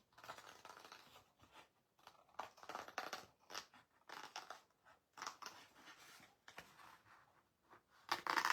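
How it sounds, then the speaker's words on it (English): Scissors cut out the round body shape of a stamped paper image for paper piecing, with quiet, close, intermittent snips and paper rustles in an irregular rhythm. "now the only bit I need to cut out is the round body shape"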